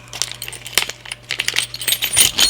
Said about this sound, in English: I just need to grab one of these Allen keys, in this case the really big one,